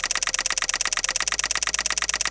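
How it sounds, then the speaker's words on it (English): Camera shutter clicks in rapid, evenly spaced succession, a crisp mechanical snap repeating steadily throughout with no voices, used as an edit sound effect synced to image cuts. "Just search for shutter sound effects and sync them with each image cut."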